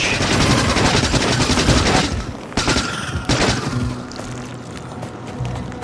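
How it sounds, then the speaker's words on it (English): A machine gun in a video game fires dense, rapid bursts up close, with short pauses between volleys and some quieter shots trailing off toward the end. "the machine gun is a lot more effective than the handgun"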